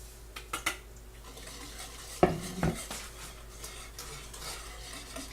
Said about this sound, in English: Once you have all the sugar in, make sure you stir it so that it doesn't stick to the bottom and burn